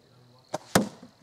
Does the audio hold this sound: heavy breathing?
no